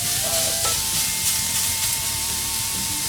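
Chorizo sausage frying in a pan, its fat crackling in a steady, dense sizzle that runs unbroken at close range with a faint tonal hum beneath.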